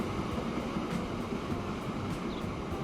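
A long freight train in Transport Fever 2 rumbles past as a steady, broad rolling roar, moderately loud and continuous with faint rhythmic clicks, alone without talking.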